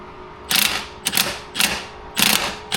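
A ratchet tightening the shift linkage on a Saab 900 gives four bursts of rapid metallic clicking, each about half a second long, close and loud, with no talk.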